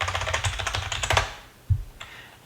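Quick bursts of keystrokes on a computer keyboard, clattering close up for about a second, then a few isolated taps after a pause.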